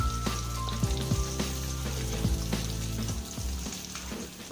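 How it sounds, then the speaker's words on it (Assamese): Paneer pieces frying in hot oil in a pan, with a loud, dense, steady sizzle and crackle, broken by occasional clinks and scrapes of stirring, close up and without voices. "মোৰ পনীৰখিনি ভজা হৈ গৈছে।"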